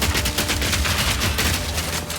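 Rapid sniper fire in the video game Path of Exile 2, a dense, loud stream of gunshots and impacts hammering almost continuously, with no talking.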